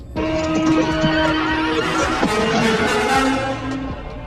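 A horse in a horror film neighs and whinnies loudly and close, in a sustained, shaky call lasting several seconds, with layered film sound underneath.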